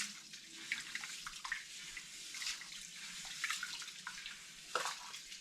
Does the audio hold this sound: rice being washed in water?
yes